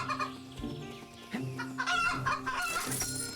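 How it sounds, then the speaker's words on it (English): Chicken clucks from the video game Hobo Cat Adventures, several short bursts over game music and effects, moderately loud, no talking. "We're gonna grab a chicken as well."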